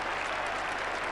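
A cricket crowd at Edgbaston applauds England's Ashes victory over Australia in the 1981 fourth Test, with dense, steady clapping heard from a distance.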